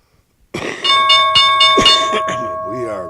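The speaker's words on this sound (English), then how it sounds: "the bell rang. The bell rang." A bell rings out with bright, sustained ringing tones that hold and slowly fade over about two and a half seconds, while a person talks over it.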